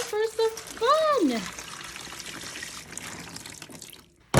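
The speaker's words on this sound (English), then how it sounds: "So just add some water for some fun." Water pours steadily into a classroom sensory bin, running for several seconds in a continuous splashing flow, with a voice briefly heard near the start.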